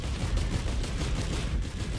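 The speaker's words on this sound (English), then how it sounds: "I can fire faster now because of the soldier syringe." Rapid automatic gunfire in Risk of Rain 2, its fire rate boosted by the soldier syringe item, a dense continuous rattle of shots with booming low end, loud and steady throughout with no talking.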